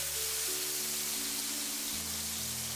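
Toasted flatbread pieces stir-fried fast with minced ginger and garlic in oil in a wok, giving a continuous bright sizzle with soft background music underneath.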